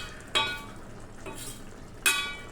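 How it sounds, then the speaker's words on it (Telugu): Beerakaya (ridge gourd) curry simmers in a pan, with a soft steady bubbling and a few sharp scraping stirs of a utensil against the pan, close and isolated. "కొంచెం ఉడకనివ్వండి కర్రీని"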